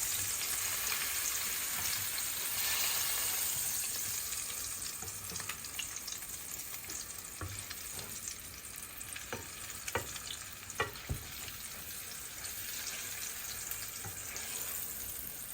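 Floured meatloaf frying in a pan, a steady close sizzle that runs throughout, with a few sharp pops and crackles toward the end and no talking.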